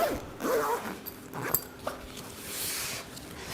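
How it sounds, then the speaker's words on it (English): A zipper is drawn closed on a fabric Threaders carry-all bag, giving a couple of close, quick rasping runs amid light handling noise. "if I zip it up"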